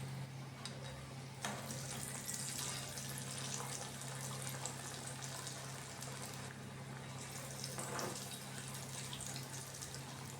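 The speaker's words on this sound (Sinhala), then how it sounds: "තෙල් ටික රත් වෙනකොට හදාගත්ත වඩේ එකින් එක තෙලට දාගන්න" Masala vada deep frying in hot oil gives a steady, close, crackling sizzle that runs unbroken throughout.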